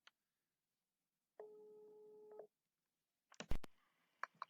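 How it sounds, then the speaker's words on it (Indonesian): A phone call to someone in Malang produces a steady electronic ringback tone lasting about a second, followed by clicks and a louder pickup noise, in an otherwise quiet room. "Kita bakal telepon Nadila"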